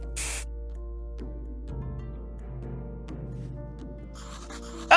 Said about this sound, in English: now spray it into both eyes